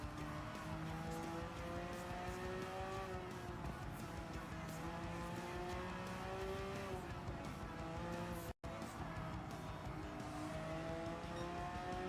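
Race cars lap Suzuka circuit in Gran Turismo 7, a loud continuous engine drone rising and falling through gear changes with hints of tire squeal, one brief dropout near the end, no talk.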